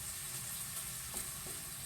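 Chicken livers and ground beef frying in a pan for Cajun dirty rice, giving a steady, close sizzle with a faint stir or two and no talking.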